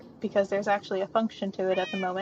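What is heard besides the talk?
cats meowing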